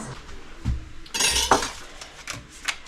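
A heavy metal lid clanks and scrapes as a Dutch oven holding roasting chicken on cut onion is opened, giving a few close, irregular knocks and clinks with soft rustling between them.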